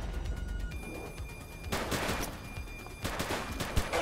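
Rapid automatic gunfire in The Precinct, loud bursts of shots with short gaps between volleys, close and sharp throughout.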